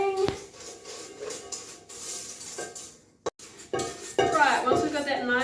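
A whisk beating chocolate chip cookie dough in a mixing bowl: close scraping and clinking of metal against the bowl, irregular strokes with a brief pause midway, then more vigorous stirring.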